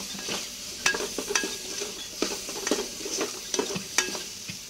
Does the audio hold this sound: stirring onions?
yes